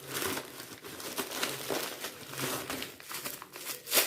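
Tightly wrapped Trendyol parcel being unwrapped, with close, continuous crinkling and crumpling of packaging that rises and falls in bursts and has no talk over it.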